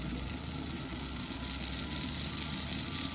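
A tablespoon of butter and a little cooking oil heating in a pan for a tadka, giving a dense, even sizzling hiss that holds steady and loud for the whole stretch, with no speech.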